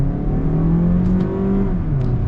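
A 2022 Mazda 3 hatchback with front-wheel drive and a 6-speed automatic accelerating, a steady engine drone rising in pitch and then dropping as the transmission shifts up, heard from inside the cabin.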